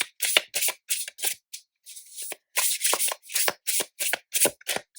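Tarot cards are shuffled and handled in quick, crisp bursts of riffling and flicking, close and fairly loud, with short pauses between the shuffles.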